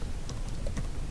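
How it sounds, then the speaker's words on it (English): A computer keyboard is typed on in a quick run of a few soft key taps, faint under a dense, steady background hiss. "we click into here, type the password for root"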